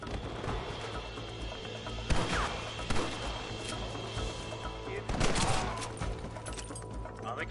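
Scattered gunshots from a Red Dead Redemption shootout crack over a steady bed of game ambience and music, with a couple of louder bursts standing out amid the mix.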